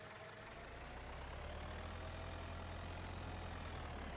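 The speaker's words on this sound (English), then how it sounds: "I'm trying to remember how much power this tractor has." Tractor engine idling steadily in a farming video game on an Iowa plains map, a low continuous rumble held at even loudness throughout, with no voices.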